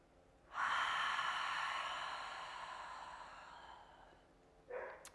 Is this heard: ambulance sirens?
no